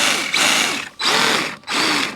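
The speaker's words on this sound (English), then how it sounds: "Once it's getting down to the dirt and these little nubs making all that noise" Small rubber track nubs on an Arrma RC vehicle fitted with Integy snow skis clatter against dirt in three long, loud rattling bursts separated by brief gaps.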